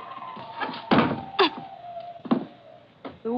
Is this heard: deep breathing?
no